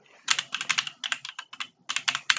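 Someone types on a computer keyboard: a close, crisp run of rapid key clicks in quick bursts, with a short pause and a final sharper tap, and no voices.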